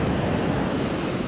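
Steady, loud wash of ocean surf at a beach in Newport Beach, a continuous broadband roar with wind noise on the microphone and no distinct breaks.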